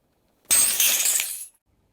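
A glass shatters in a single bright crash lasting about a second, its shards crashing to the floor indoors and then falling silent.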